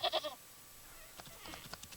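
A goat in the video game Wytchwood gives a few quick, loud bleats right at the start, followed by quieter game ambience with soft clicks and rustles.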